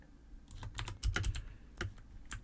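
Computer keyboard and mouse clicks in a Skyfactory 2.5 Minecraft session, shift-clicking and dragging items: a quick irregular burst of close, crisp clacks with a denser cluster in the middle, no talk.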